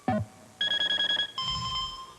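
A telephone rings after a voice-activated call placed with a Sprint phone card, starting with a short electronic blip, then a rapid warbling ring burst, then a steadier tone, all fairly clear and close.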